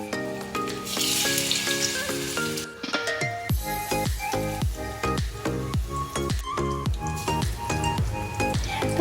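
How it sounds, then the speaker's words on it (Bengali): Small prawn pakoras frying in hot oil give a steady, soft sizzle that sits under loud background music throughout. "তো একটা একটা করে আমি সব পকোড়াগুলো তেলের মধ্যে দিয়ে দিয়েছি।"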